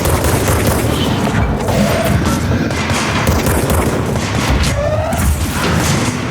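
An exploder enemy blasts during combat in the video game Control, loud booming detonations mixed with dense gunfire that rumble on continuously with no pauses.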